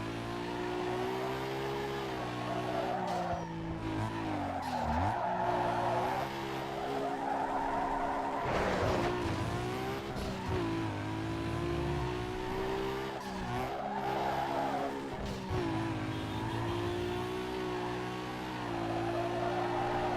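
A car drifts in Need for Speed Underground 2, its tires squealing in long sustained bursts over a revving race engine, with gear shifts and repeated slides across about twenty seconds.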